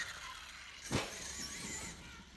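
A Traxxas E-Revo RC car runs past, giving a brief whooshing rise near one second over steady high motor whine and outdoor background noise.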